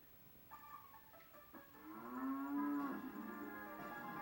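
A cow moos in The Legend of Zelda: Ocarina of Time, played on an 80s CRT TV: a short rising lead-in, then a long, loud, drawn-out moo that holds steady and fades slowly.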